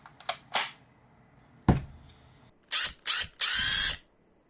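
Plastic parts of a Tamiya 1/24 Nissan Calsonic Skyline GT-R Gr.A scale model kit are drilled with a small power drill: a few sharp clicks, then three whirring bursts close by, the last one longest.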